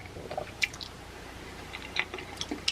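Popeyes mac and cheese is chewed close to the mic, soft wet squishes and small smacking bites in an irregular rhythm, quiet and without talk.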